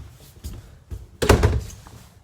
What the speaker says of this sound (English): this door here is what goes into the bedroom